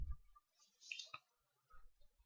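A single soft right-click on a computer mouse, faint and close, set among quiet low background noise.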